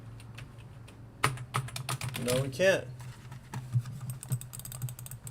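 Keys clatter in quick, uneven bursts on a computer keyboard during laptop troubleshooting, close and moderately loud, while someone speaks briefly over the typing.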